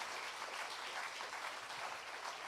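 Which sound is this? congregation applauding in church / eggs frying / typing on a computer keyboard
congregation applauding in church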